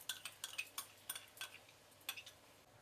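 Metal spoon scraping and clinking against a bowl as marinated mutton is mixed with chili powder and whipped yogurt, a quick irregular series of close taps and scrapes.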